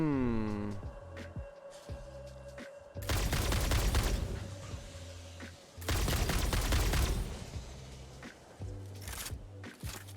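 Homing ammo fires in the Satisfactory video game's rocky desert in two loud, dense volleys of rapid shots, separated by quieter in-game machinery and ambience.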